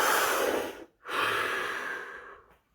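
One deep breath, close to the listener: a long, airy inhale, a short silent hold, then a slow exhale that gradually fades out, with no voices.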